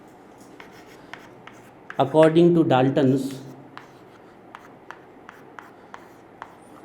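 Chalk or marker tapping and scratching on a classroom board during a chemistry lesson on atoms, with short sharp strokes spread across the clip and a teacher speaking over the middle.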